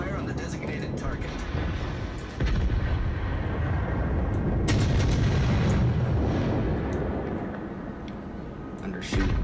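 Naval artillery fire from a World of Warships battle rumbles as heavy booming salvos and sustained explosive roars, loud and dense throughout, with a voice talking over the din.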